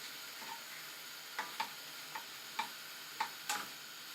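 Food sizzles quietly in a pan under a steady hiss while being stirred, with about six distinct scraping taps of the utensil spaced irregularly across the few seconds.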